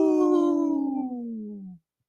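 A person gives one long wolf-like howl in imitation, loud and close, sliding slowly downward in pitch for nearly two seconds before cutting off into silence.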